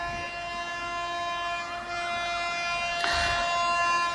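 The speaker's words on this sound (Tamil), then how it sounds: "இந்த ட்ரெயின் வந்துகிட்டு இருக்கு." A train approaches on railway tracks where many lines run side by side, a steady tonal hum and whine holding throughout and swelling louder with a burst of rumble near the end.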